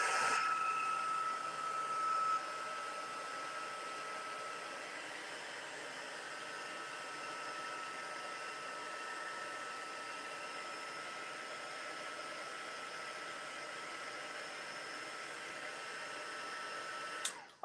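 A hair dryer blows steadily on foam tape stuck to a scrapbook page, a constant close whooshing roar that runs unbroken for about seventeen seconds before cutting off.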